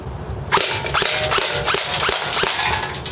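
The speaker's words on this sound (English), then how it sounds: "now it's time to shoot a can. We're about a good 10 feet away, so first semi-automatic" An ICS Sig 552 airsoft rifle fires semi-automatic at a can about ten feet away: a run of roughly half a dozen sharp, close snapping shots, evenly spaced, each with a quick mechanical clack.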